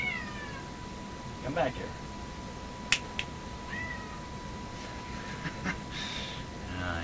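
A cat meows a few times, faint and intermittent, beneath a voice and a steady electronic hum.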